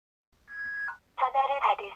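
A phone call is dialed: a steady tone holds for about half a second, then after a brief gap a burst of tones and ringing follows. The sounds are loud and close, with no talk.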